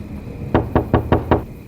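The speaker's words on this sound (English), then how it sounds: "knock at the door." Five sharp knocks at a house door in an evenly spaced, quick series, loud and close in a quiet living room, each rap a short percussive thud.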